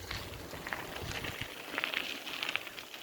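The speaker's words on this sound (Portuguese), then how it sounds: "Passa por outro riacho aqui, outro." Rushing stream water churns steadily as a bicycle rolls through a creek on a countryside ride near Jacobina, Bahia, with a constant broadband wash and a few brief splashy spurts, no talking.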